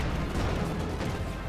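Pack howitzer artillery fire in a strategy video game, a dense, loud burst of booming explosions and rumble over about a second and a half, with no talk.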